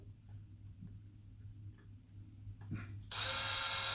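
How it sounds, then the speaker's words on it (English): A power drill with a 440 bit bores a pilot hole into a plastic game controller shell, first a faint low motor hum with small clicks, then a loud, steady high whine from about three seconds on. "I'm using my 440 drill bit just as a pilot hole"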